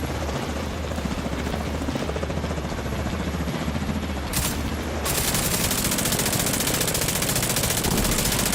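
Sustained automatic gunfire from The Division 2 video game, dense and continuous over a steady helicopter rotor drone, intensifying into heavier bursts midway through.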